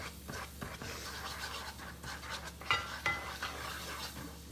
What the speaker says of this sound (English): You just kind of like mix it